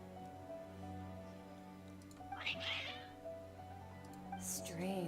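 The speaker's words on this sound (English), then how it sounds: "Your cats seem pretty worked up" Cats meowing in the Genshin Impact video game, a few cries rising over steady background music with a faint ticking.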